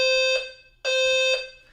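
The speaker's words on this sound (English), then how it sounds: "whoever's the moron that set the fire alarm off" A fire alarm blares in two long, loud electronic tones separated by a brief gap, the shrill buzzing harsh and insistent with no voices over it.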